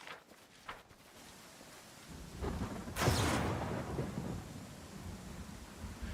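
Thunder in Pathfinder Kingmaker: soft rain patters under a low rumble that grows into a sharp crack of lightning and a rolling thunderclap midway, then settles into a sustained, moderately quiet storm rumble with steady rain.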